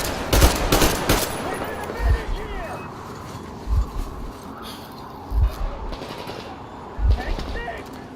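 Gunfire from the video game Metro Exodus, several heavy shots spaced a second or two apart over a continuous rumbling background, with voices talking in between.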